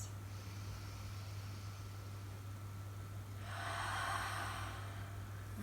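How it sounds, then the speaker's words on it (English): A soft, breathy exhalation through the mouth during a quiet yin yoga session, rising as a gentle hiss in the latter part after a faint, steady room hum. "Deep exhalation through the mouth, releasing the jaw."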